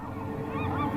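A bird in The Journey Down lets out loud, close honks, goose-like and nasal, rising and wavering over a low ambient game background for about a second, with no talk.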